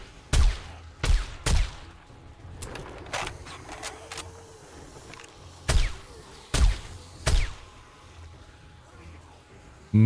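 Game gunfire in a desert-biome horde shooter: sharp, loud shots in uneven bursts, some single and some in quick pairs, with quieter background sounds between them.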